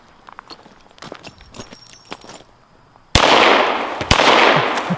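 Ruger Mark IV .22 pistol firing outdoors: a few faint distant pops and clicks, then two loud, sharp, close cracks about a second apart, each ringing out into a long echoing tail.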